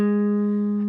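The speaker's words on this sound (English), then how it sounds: "the major diagonal shape is going to go like this" A single sustained electric guitar note from an E major diagonal pentatonic shape on the fifth string, clear and steady, ringing alone and slowly decaying.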